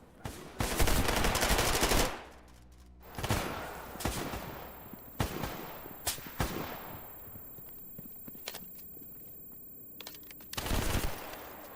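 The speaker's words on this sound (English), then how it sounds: "I think they're shooting in my general direction, by the way." Gunfire in STALKER: GAMMA, with bursts and single shots echoing in loud broadband volleys around a quieter stretch where scattered individual cracks ring out, followed by a final heavy burst.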